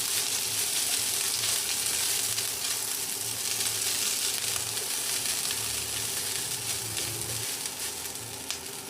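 Leftover rice with garlic sizzles and crackles in a hot pan while being stirred and mixed for sinangag, a steady, close frying hiss with occasional scraping pushes.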